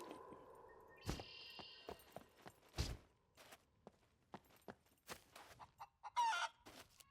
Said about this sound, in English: Chasing the chicken.